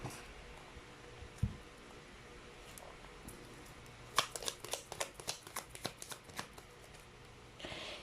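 Tarot cards are shuffled and pulled from a deck, soft rustling giving way to a run of quick crisp riffling snaps, close and fairly quiet with no talking.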